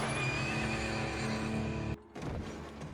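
A horse gives a loud, drawn-out whinny with a wavering high pitch. It cuts off abruptly, leaving a quieter rumbling background.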